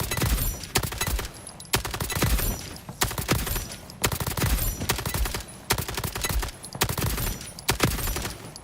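Rapid bursts of gunfire from a gun in the video game ALARA Prime, loud, near and repeated in clusters roughly every second across the span, with no talking.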